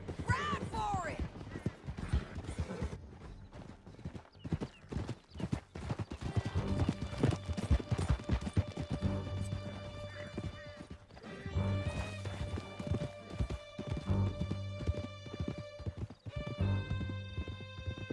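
Horses gallop hard in Red Dead Redemption 2, a steady, rapid clip-clop of hooves with occasional neighs, running continuously under swelling music and brief character voices.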